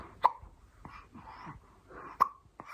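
Two distinct hiccups from a seven-month-old baby, spaced about two seconds apart, close and fairly soft, with small breathy vocal sounds from the infant in between.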